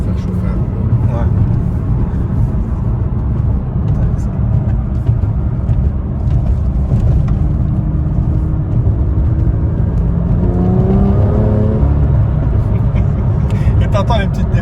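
BMW M2 engine revving hard with crackling exhaust pops, a loud continuous roar that rises in pitch near the end, with voices talking over it.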